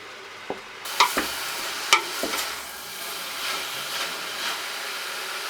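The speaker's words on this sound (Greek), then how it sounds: "Το βούτυρο έχει ζεσταθεί, οπότε μπορούμε να προσθέσουμε το μήλο. Θέλουμε να το σοτάρουμε σιγά σιγά" Apple pieces sauté gently in melted butter for a baklava apple filling, giving a soft, steady sizzle with a few sharp utensil clicks and taps against the pan early on.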